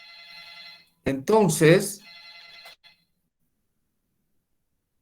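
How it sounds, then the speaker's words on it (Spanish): A telephone rings with a steady electronic trill, which a voice briefly interrupts before the ringing resumes for a moment and then stops, leaving silence. "Alguien llama por teléfono."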